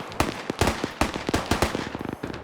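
An anti-tank weapon fires in a tactical shooter match amid rapid rifle and machine-gun fire, a dense burst of sharp cracks and thuds close by, with no voices.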